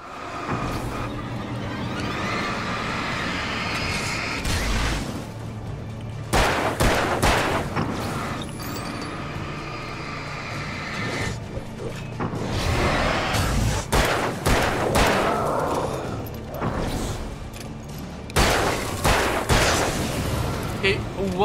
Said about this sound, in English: One misfired shot.